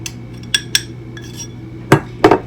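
A few clinking knocks of a utensil against a bowl while scone dough is mixed by hand, two light taps early and two louder clunks near the end, close and with no talking.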